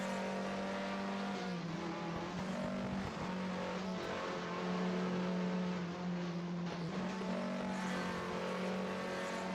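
Formula 3 race cars, including an Alpine, roar around the Paul Ricard circuit in 1973, a steady loud engine drone holding throughout with slight swells as cars pass, no voices over it.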